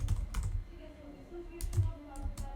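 Quiet clicks of a computer keyboard come in short bursts and scattered single taps as Java code is typed, close up, with faint speech in the background.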